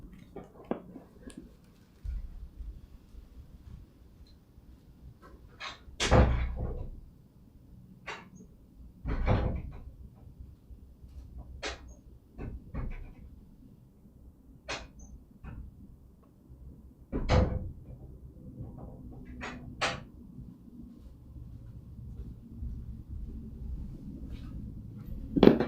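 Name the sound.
door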